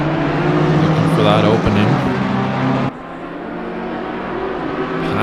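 Sim-racing GT3 cars at the Nürburgring in Assetto Corsa Competizione roar past in a loud, dense engine wash with a rising pitch sweep, under steady commentary from a voice.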